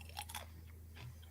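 Someone bites into a small fresh jalapeno pepper, two quick close crunches followed by a faint chew, quiet with low background hum.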